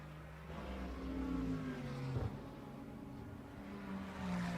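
A Corvette GT race car drives past during qualifying at Barber Motorsports Park, its engine droning steadily at mid distance with a pitch that rises and falls as it shifts and passes.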